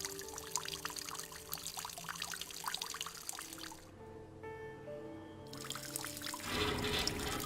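A character urinating in the video game ELEX, a steady liquid stream pouring and trickling against background game music, pausing briefly midway, then resuming with a louder splash near the end.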